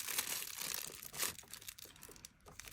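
Plastic wrap and tape crackle and tear as items from a Sentro 40 and Addi 46 knitting machine unboxing are pulled out of their packaging, a brief, fairly quiet flurry of close crinkling.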